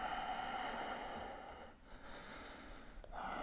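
Slow, audible breaths during a yoga pose, a long airy exhale followed by a quieter pause and a fresh inhale, close and steady with no talk.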